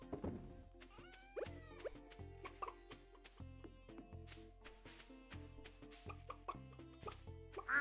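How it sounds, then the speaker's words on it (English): A chicken clucks in Stardew Valley, short soft repeated clucks and pecking plops scattered over gentle farm music, faint and close. "What in the fuck are you doing there, little chicken guy?"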